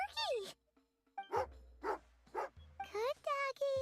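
A dog in Genshin Impact gives a series of short, pitched barks and yips in separate bursts, close and clear, with game voices around them.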